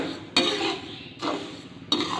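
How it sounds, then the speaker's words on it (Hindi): A spoon keeps stirring melting sugar in a pan while making makhandi halwa. A few scraping, clinking strokes sound close by at an uneven pace, with no one talking. "तो चम्मच जो है वो आपने हिलाते रहना है।"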